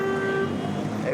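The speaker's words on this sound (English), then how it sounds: "because of those horns honking" Car horns honk in traffic, a short steady toot over a dense roadway rumble, loud and close, with a voice mixed into the noise.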